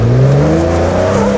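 A Jeep's engine revs loud and close as it crawls up a rock ledge on the Moab Rim trail, its pitch rising and shifting steadily as the throttle is held.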